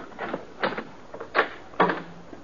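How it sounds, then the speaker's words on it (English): A door opens in an old-time radio Western drama, rendered as a series of four creaking, knocking bursts of wood and latch, close and distinct with no talk. "While you open the door"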